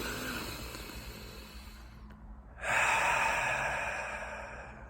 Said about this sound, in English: taking long, slow, and deep breaths